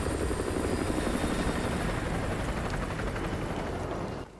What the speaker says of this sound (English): Chopper inbound, keep low.